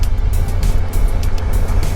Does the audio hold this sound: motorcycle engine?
yes